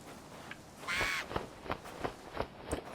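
A bird in the video game Moomintroll: Winter's Warmth caws, with a burst of raspy squawking followed by several short, sharp caws spaced out in a loose rhythm, fairly close and clear.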